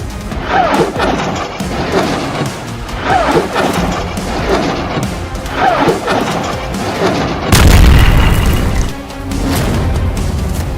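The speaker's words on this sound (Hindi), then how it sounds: "हसन नसरल्लाह की सीधी धमकी के बाद हिजबुल्लाह ने सैकड़ों रॉकेट से इजरायल पर भीषण हमला कर दिया है।" Explosions from a Hezbollah rocket attack on Israel: a run of heavy, booming blasts and crashes, loud and close, with one especially strong low impact near the end and no voices.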